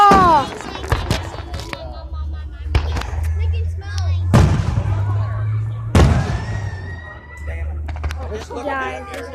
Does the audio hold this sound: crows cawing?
no